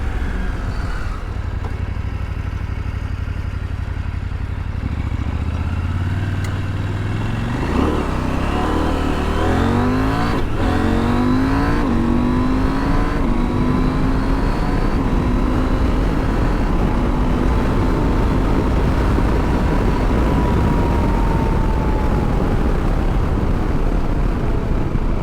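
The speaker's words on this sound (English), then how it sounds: "there is some pretty decent wind noise going on, but it's not awful, but it's buffeting me around a little bit" Steady, loud wind roar and buffeting fill the ride on a 2019 KTM 790 Adventure R motorcycle, with the engine rising through gears underneath, continuous and close.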